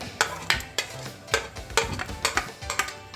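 A spoon scrapes and knocks against a pot while onion and ginger paste is stirred for beef paya, giving close, rhythmic clinks and scrapes about three per second with a faint sizzle beneath.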